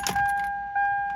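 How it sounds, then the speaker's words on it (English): Keys jangle in a quick metallic burst inside a third-generation Toyota 4Runner (1996-2002) before the ignition is turned. A steady electronic chime tone holds underneath. "grab my keys"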